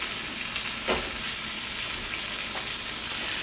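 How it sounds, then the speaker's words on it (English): Onion sizzles and fries in a pan in a loud, steady hiss, with a couple of brief stirring scrapes, and no voices. "Let's add the rest of this onion."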